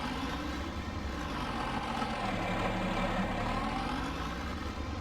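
A tractor engine in Farming Simulator 19 runs steadily at a low idle-like drone, a continuous mechanical hum with no voices over it.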